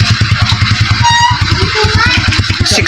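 A Suzuki Shogun motorcycle thrums loudly up close on a test drive, its rhythmic engine pulse steady with a faint rising whine layered over the beat.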